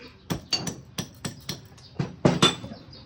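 Hammer blows on a Yamaha Zeal 250 motorcycle part, about eight sharp metallic strikes in an uneven rhythm, close and clear with no talk.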